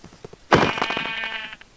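A sheep bleats once in the video game Minecraft, a single clear, loud, wavering bleat lasting about a second after a few faint clicks.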